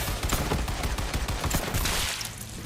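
Rapid bursts of gunfire in the Borderlands 3 shooter game, dense overlapping shots and explosions pounding continuously and loudly with no pauses.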